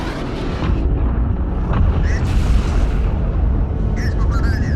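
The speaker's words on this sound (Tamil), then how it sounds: "அந்த அட்டாக்ல மாட்டி சின்ன பின்னமா மாறி கடைசியில வெடிச்சு சதறுது" A spaceship in a film blows apart under a jet attack, with a loud, sustained, rumbling explosive roar and debris bursts, and someone narrating over it.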